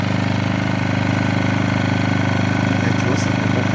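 A pure sine wave inverter generator runs with a steady, fairly loud mechanical hum and exhaust drone, constant throughout, with a person talking over it.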